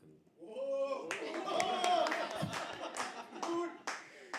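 Audience members at a live poetry open mic cheer, whoop and clap in a loud burst that swells, holds and then tapers off, with voices mixed in.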